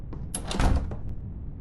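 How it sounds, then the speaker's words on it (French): A door swinging shut in the video game Ravenous, a short scraping slide and thud over a second or so, close and moderately loud with no talk. "Non, on va fermer la porte"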